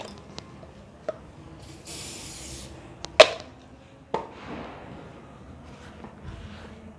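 Wood furniture cleaner spray gives one short, hissing burst in a quiet room, surrounded by sharp knocks and handling clicks from the bottle and furniture.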